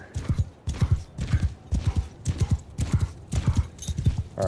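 Horses clip-clopping in the Mount & Blade II: Bannerlord video game, a steady run of hoof beats in regular bursts with occasional faint whinnies, loud and close throughout.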